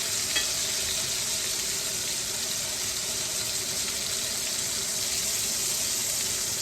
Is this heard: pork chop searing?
yes